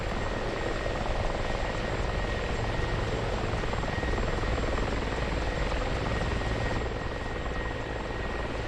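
A helicopter in the DCS flight simulator gives a loud, unbroken rotor and turbine roar with a faint steady whine, and no voices.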